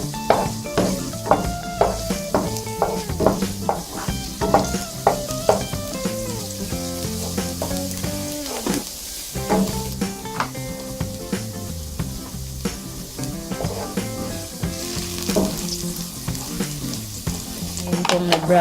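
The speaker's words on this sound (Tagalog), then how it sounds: "Ngayong mainit na ang mantika ay ilalagay na natin ang bawang." Garlic fries in about three tablespoons of hot olive oil in a pan, a steady close sizzle with frequent scraping and stirring clinks as it cooks.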